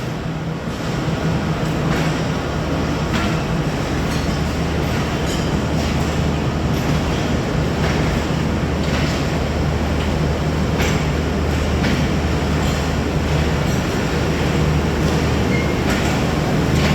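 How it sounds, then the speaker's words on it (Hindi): Jaffar Express pulling out of Kharian Cantt railway station, a steady loud rumble of wheels and carriages rolling past with faint rhythmic clicks over rail joints, continuous and close for the whole stretch. "जाफ़र एक्सप्रेस खारियां कैंट मुख्तसर अपने एक क़याम के बाद रवाना हो गई है अपनी मंजिल की जानिब"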